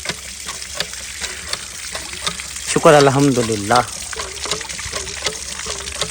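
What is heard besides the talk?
hand pump being worked, water gushing out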